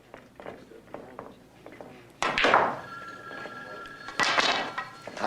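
A telephone rings in two loud bursts of bell-like trilling, close by, after a stretch of soft knocks and rustling.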